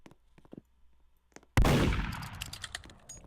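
A gunshot in the Roblox game Murder Mystery 2 cracks suddenly after faint scattered clicks and taps, one loud sharp blast that rings off and decays over about a second.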